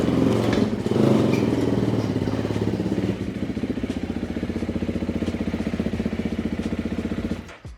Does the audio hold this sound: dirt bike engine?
yes